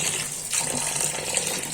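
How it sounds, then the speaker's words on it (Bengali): Tap water running steadily into a sink while cut pieces of wild yam (kham potato) are rinsed, a continuous close gushing with faint splashes and no talk. "এটা আমি পুরোটা ভালো করেই ধুয়ে নিচ্ছি"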